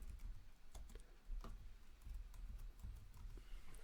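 Keys on a computer keyboard tapped in a quick, uneven run of light clicks, close and fairly quiet, with no voice.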